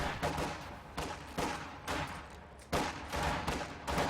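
Artillery barrage and gunfire from the video game Company of Heroes 2, a rapid series of loud, close blasts and shots recurring in bursts, dense and unbroken.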